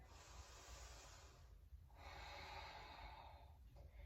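Slow, steady breathing through a yoga hold: a long airy exhale, a short pause, then another drawn-out breath, close and soft over a low room hum.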